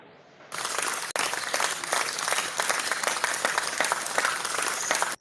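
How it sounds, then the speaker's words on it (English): Steady audience applause breaks out after a quiet moment and continues densely for several seconds, close and lively, then cuts off abruptly. "Let me clap for you."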